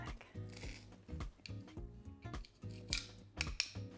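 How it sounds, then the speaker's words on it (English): Garlic being minced for slow cooker pork carnitas, quiet crisp repeated snips and chops in a kitchen, with soft clinks of utensils, close and faint. "I'll mince some garlic in there as well"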